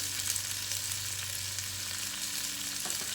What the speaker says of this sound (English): So while our potatoes are frying